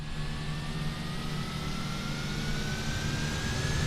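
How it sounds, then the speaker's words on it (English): A turboprop aircraft drones steadily nearby with a constant low roar and a faint rising whine, heard from inside a small plane's cabin. "Sounds like there's a jet somewhere around us. Oh. It's a turbo prop."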